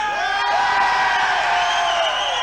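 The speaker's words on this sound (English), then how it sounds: "we say, how's everybody feel, you're gonna start screaming again" A dense crowd at a 1995 KISS fan convention in Adelaide screams and cheers loudly and continuously, high shrieks and whoops layered together without a break.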